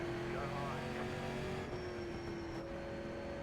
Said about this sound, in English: And there goes a little spin out